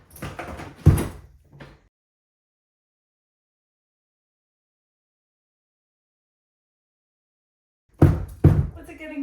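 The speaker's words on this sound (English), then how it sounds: "we'll be able to open this door" An old door hidden for years behind plasterboard in an abandoned Irish house is forced open, giving loud scraping, rattling bursts near the start, then long silence before another burst of rough banging and catching.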